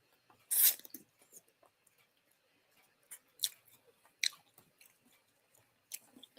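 Crunching bites into hot, spicy and sour pickles soaked with peppermint, several separate loud crisp crunches spaced a second or so apart, with quieter chewing in between, close to the mic.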